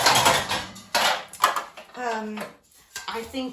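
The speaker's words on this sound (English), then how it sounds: "I'm just going to set this here to get to these baking pans" Baking pans shifted around in a home kitchen while decluttering give a series of clattering metal knocks and scrapes, loud and close, with a voice talking between them.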